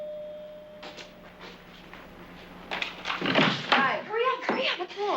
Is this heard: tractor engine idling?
no